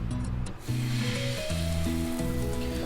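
Aval appam batter sizzles steadily in a hot pan, a continuous bright hiss that runs through the whole stretch without pause.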